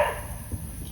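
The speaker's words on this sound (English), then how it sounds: "That stupid dog." A dog gives a short, fairly faint bark or yip from somewhere nearby, heard once in an otherwise quiet room.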